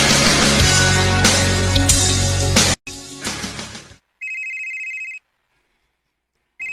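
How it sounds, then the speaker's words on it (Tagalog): A mobile phone rings with a bright, electronic ringtone in two separate bursts, each broken by silence, after a short stretch of loud, dense background sound. "Kanina raman ni nagsigig ring ang phone ni Mama."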